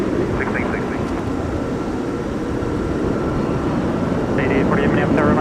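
An airliner rumbles broadly and steadily at Minneapolis–St. Paul Airport during a winter storm, with faint radio chatter chirping over the constant engine noise.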